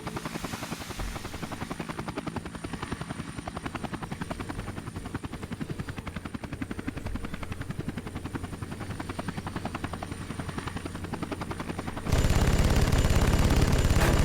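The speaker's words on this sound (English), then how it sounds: "Machine gun!" Rapid machine gun fire from a helicopter in the Vietnam War flight game Air Conflicts Vietnam rattles continuously over the steady thump of rotor blades, growing louder and denser near the end.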